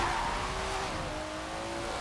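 A car drifting in Forza Horizon 4, its tires holding a long, steady squeal over a droning engine, close and continuous for the whole stretch without any talk.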